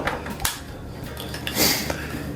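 A Kentucky mule variation with fresh mint is mixed in a pub, with light clinks and a brief scraping rattle of glassware and metal, close and moderately loud with no talking.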